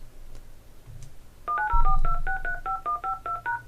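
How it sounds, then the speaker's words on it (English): Touch-tone dialing while calling into a call center, a quick run of about a dozen clear DTMF beeps in steady rhythm, close and loud, preceded by a brief low hum. "I'm going to call into the call center."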